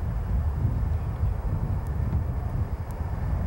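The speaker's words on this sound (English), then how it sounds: "This Phantom's been cleared for takeoff." An F-4 Phantom jet takes off at Reno/Tahoe International Airport, heard as a deep, steady roar. The rumble stays constant and fairly distant, with faint clicks over it and no voices.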